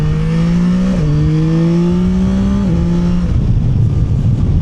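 A 2025 Yamaha Tracer 9 GT motorcycle accelerates hard in sport mode, its engine note climbing steadily through quick gear changes, loud and close over rushing wind.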